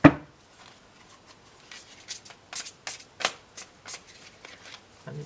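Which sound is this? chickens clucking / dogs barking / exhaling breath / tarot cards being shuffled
tarot cards being shuffled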